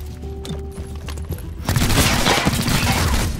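Dense gunfire from the tactical game XCOM: Chimera Squad breaks out suddenly after quieter ambient game sounds, a loud close barrage of overlapping shots that continues to the end.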